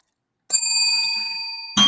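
A bright chime of bells used as a segment transition: one struck tone rings out clearly with sustained shimmering overtones, then a second strike begins just as the clip ends.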